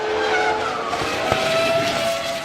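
A 2001 Formula 1 car braking hard and missing its braking point, tyres squealing in a sustained high skid over a roaring engine that drops in pitch, loud and close without talk.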